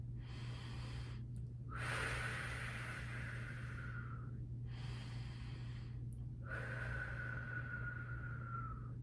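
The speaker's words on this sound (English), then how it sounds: "I would take a deep breath in my nose and I would blow hard out my mouth" A person takes a deep breath in through the nose, then blows hard out through the mouth. The sequence happens twice, each exhale a long, loud, close rushing breath over a steady background hum.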